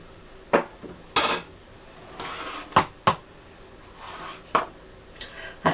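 A mixing bowl is handled on a kitchen counter while making rock buns, with several sharp knocks and clatters spaced irregularly, close and fairly loud against a quiet room.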